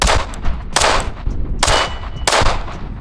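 Glock pistol fitted with a Printz compensator fires three loud, sharp shots about a second apart, each ending in a metallic ring from a steel target, with no talking between them.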